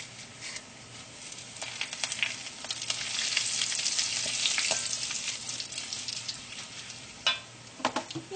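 Neem leaves dropped into hot oil already holding cumin and coriander for a Kerala-style tomato chutney, giving a steady bright sizzle that swells into vigorous frying with a few crackling pops near the end.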